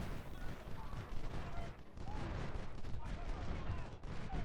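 Rolling gunfire and artillery from a Civil War battle at Antietam in the strategy game Ultimate General: Civil War, with a dense continuous crackle of musket volleys and booming cannon at steady loudness throughout.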